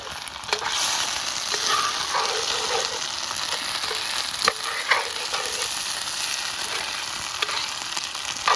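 Onions and potatoes fry in a pan with a steady, dense sizzle, broken now and then by the scrape and clink of stirring.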